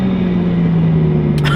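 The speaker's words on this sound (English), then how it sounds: "That exhaust and this engine combined together with that supercharger, it is an animal." A modified, supercharged Porsche 911 996 engine and exhaust droning with a steady loud low hum at near-constant revs, a brief rise at the very end, and no talking.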